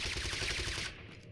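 A rapid burst of gunfire in the video game TABG, a dense, loud rattle of shots lasting just under a second before tapering off, heard alone without talk.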